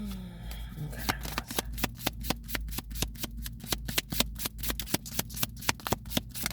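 Alice in Wonderland oracle cards are shuffled by hand at close range, starting with a brief riffle and then a long run of regular, crisp card slaps.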